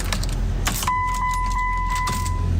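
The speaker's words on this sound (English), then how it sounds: "my car wouldn't start. It was making this sound when I turned the key." A car that won't start: keys jangle as the key is turned, then a steady electronic warning tone sounds with faint repeated clicks and no engine catching.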